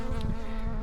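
A swarm of Africanized killer bees hums in a steady, dense drone at Sunsites Library, loud and close throughout with no pauses.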